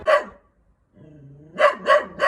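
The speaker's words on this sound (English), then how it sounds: "The guard dogs on this trip have been very good at their jobs." Guard dogs barking nearby, a sharp bark followed after a pause by a low whine and then three loud barks in quick succession, with no voices.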